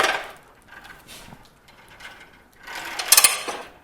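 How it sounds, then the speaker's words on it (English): A Tekton dual arm hose reel ratchets close by in two short bursts of rapid mechanical clicking, the second louder and busier, with quiet gaps in between and no voice. "You can hear it ratchet."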